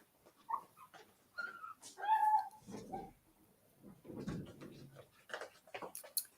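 A dog whimpers and gives a few high, thin yips at close range, mixed with people talking nearby in an indoor conversation.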